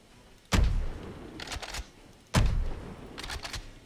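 Mossberg 590 shotgun fired in Fallout 4: two heavy, booming close-range blasts about two seconds apart, each followed by the clack of the pump action cycling.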